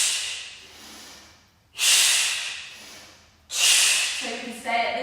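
Two forceful, close breaths pushed out through the mouth in a breath-focused yoga class, each a loud rushing hiss that fades slowly, with a quieter breath at the start and a faint voice near the end.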